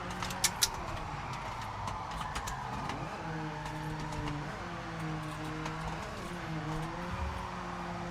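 Bone-stock Volvo car in the Forza Horizon racing game, its engine note rising and falling through gear changes as it accelerates, steady and moderately loud, with a couple of light clicks early on.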